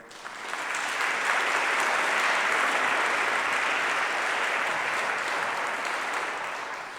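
Audience applause at a university graduate fashion show, a steady, loud wash of clapping from a large crowd that swells in and holds for several seconds before easing off.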